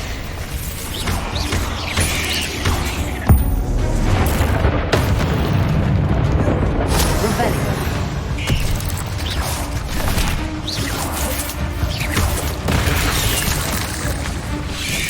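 A Bombardo explosion spell goes off in Hogwarts Legacy, and heavy booming blasts land among clattering mechanical game effects over a dense, loud rumbling bed, with sharper bursts spread across the stretch.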